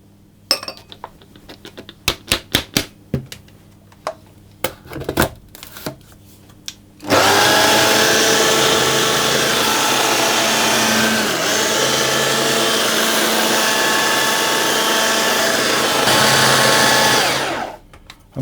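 A food processor pulses flour into ground hazelnuts with salt: a few brief clattering bursts, then a loud sustained whirring motor run of about ten seconds that cuts off abruptly, with no talking.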